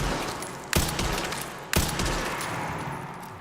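Two loud sniper rifle shots crack about a second apart in the Resident Evil Requiem video game, each sharp report followed by a short ringing tail over a steady background hum.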